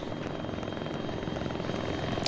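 Helicopter rotor and engine drone in Arma 3, a steady, continuous thumping roar holding at fairly constant loudness throughout, with no talk over it.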